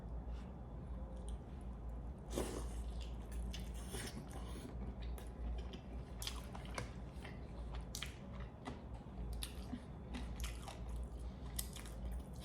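Close, wet chewing and biting on Jollibee fried chicken eaten with mashed potatoes and gravy, soft squishy crunches repeating steadily over a low background hum, no talking.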